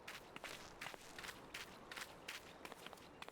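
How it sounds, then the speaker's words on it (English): Footsteps stomp steadily through a Final Fantasy XIV scene, a regular run of crisp, fairly close thuds at an even walking pace with no other sounds over them. "Stomp, stomp, stomp, stomp,"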